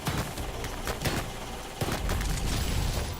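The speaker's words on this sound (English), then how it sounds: "we've got another one of those machine gun emplacements" Machine gun emplacement firing in the retro shooter Ion Maiden, a dense stream of rapid shots and booming impacts that stays loud and close throughout, with no talking over it.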